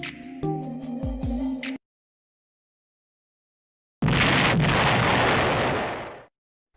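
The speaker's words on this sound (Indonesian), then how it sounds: "Bom atom yang dijatuhkan Sekutu di Hiroshima pada tanggal 6 Agustus 1945" A sound effect of the Hiroshima atomic bomb explosion of 1945: a few short tonal notes, then a pause, then a loud, broad roaring blast that holds for about two seconds before fading out.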